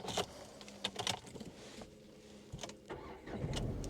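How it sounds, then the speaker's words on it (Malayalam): Nissan Magnite with a 1.0 L engine and manual transmission starting up, with a few clicks and cabin noises first, then a short crank and catch late on, settling into a steady low idle. "നമുക്ക് ഈ വാഹനം സ്റ്റാർട്ട് ചെയ്യാം."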